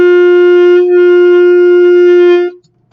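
A tenor saxophone holds a single sustained G note, steady and loud with a rich, reedy tone and a slight dip partway, alone for about two and a half seconds before stopping.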